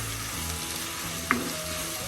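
Tomatoes for a quail egg curry sauté over a low flame with a soft, steady sizzle, broken once by a single sharp clink of a stirring spoon against the pan.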